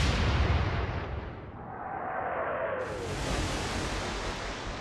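A heavy naval gun salvo booms from the German battleship Scharnhorst in the naval combat game Atlantic Fleet, followed by a rushing, whistling shell flight and a broad rumbling roar that lingers like surf.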